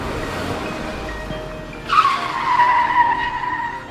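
A car's tires skid in a sharp, loud squeal that rises suddenly and trails off over a couple of seconds as a train crosses in front of the moving vehicle, following a steady engine hum.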